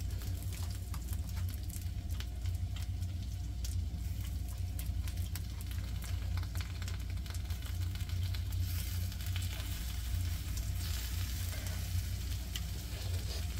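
Pork belly sizzling on a thick natural stone slab over a wood fire, with a continuous loud, dense crackle and spitting of fat close by, steady throughout with no talking.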